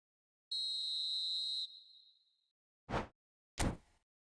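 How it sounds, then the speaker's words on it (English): A referee's whistle in the eFootball 26 mobile football game gives one long steady blast, then two short sharp blasts, loud and alone with no talk. "And the whistle's gone, presumably for offside."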